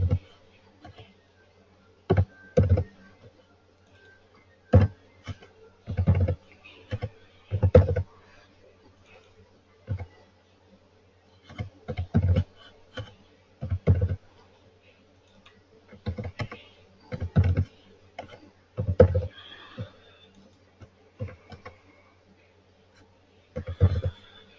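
Computer keyboard typing while entering transaction data comes in irregular clustered bursts of crisp clicks separated by pauses, close and moderately loud.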